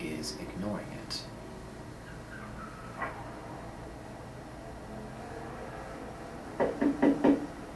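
A door being knocked on, heard as a short faint tap early on and then a louder, quick series of raps near the end. Background room tone and a voice accompany it.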